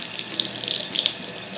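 A bathroom tap runs steadily into a sink while hands are wetted for rinsing a face cleanser, a close, constant splashing stream with small droplet spatters and no voices.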